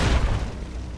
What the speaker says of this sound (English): With the M235 missile launcher, we can engage